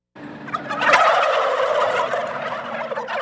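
Turkeys on a family-owned turkey farm gobble loudly and close together, a dense burst of overlapping rattling calls that starts abruptly and carries on steadily.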